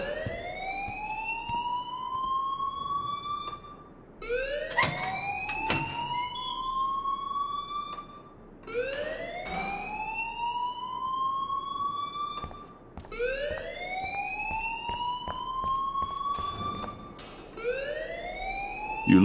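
An alarm rings in the video game Life is Strange, a wailing siren-like tone that sweeps upward and repeats in long cycles about every four seconds, loud and steady with no talking.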